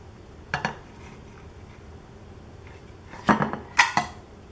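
Clatter of a pan and utensil as a cauliflower and spinach tortilla is flipped: a couple of brief knocks, then a louder cluster of clinks and scrapes close by, with no talk.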